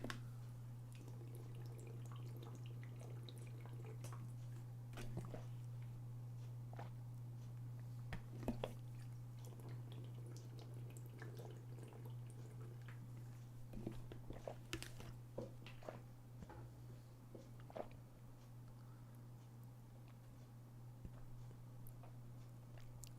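Someone sips and swallows water during a live-streamed lecture, with faint wet gulps and small clicks scattered over a steady low electrical hum, quiet and close with no talking.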